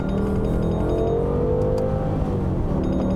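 A BMW M5 E60 accelerates hard in second gear, its engine a loud, close, rising roar that holds steady throughout without any talk.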